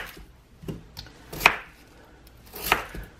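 A kitchen knife cuts vegetables on a cutting board for an Italian roast dinner, giving a handful of distinct, unhurried chops and thuds spaced out over a few seconds, close and clear.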